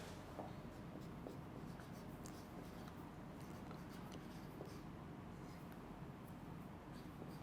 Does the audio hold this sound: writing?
yes